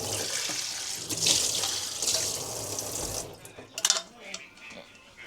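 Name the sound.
rinsing food under running tap water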